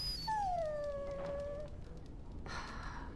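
A dog in the fantasy role-playing game Dragon Age: Origins lets out a single drawn-out, falling whimper, quiet and close, followed by a brief breathy huff.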